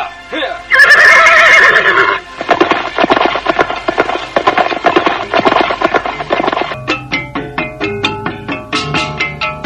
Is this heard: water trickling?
no